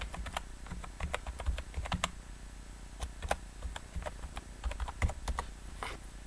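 Typing commands on a computer keyboard during a live stream: a run of light, irregular key clicks, close and quiet, with no talking.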